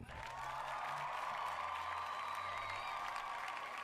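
Moderate applause from a small crowd, steady clapping that holds at an even level throughout, with a faint tonal hum underneath.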